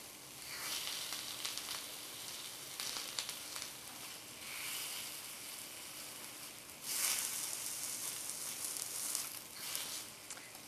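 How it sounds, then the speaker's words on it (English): Chilies char in a hot pan with a steady, soft sizzle and hiss, swelling briefly as they are pressed down, fairly faint and close. "I like the idea of charring the chili slightly."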